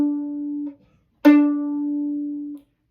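A single violin D string bowed twice: a short sustained tone, a brief pause, then a sharper attack into a longer steady note, close and clear, alone with no talk.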